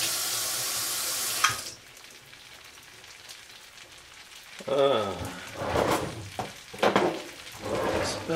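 An egg fries on a hibachi griddle beside heated rice, a loud broad sizzle at the start that drops to a low hiss, followed by a voice speaking over the cooking.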